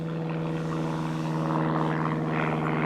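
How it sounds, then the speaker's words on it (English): A steady droning airplane engine passing overhead, heard from inside a motorhome with a vent open. It is a constant, fairly loud hum that swells slightly near the end, with no talking. "Why is there a plane coming over across now?"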